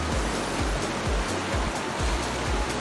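A river rushing through the Narrows canyon in Southern Utah, a steady broadband roar of flowing water with soft rhythmic low thumps, continuous and close.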